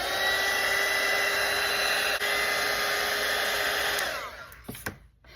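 A hair dryer blows over wet watercolour paint on a Christmas truck painting, making a loud, steady, close whirring roar for about four seconds before switching off and winding down.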